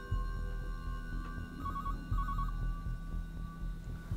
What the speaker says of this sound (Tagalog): Answer the phone.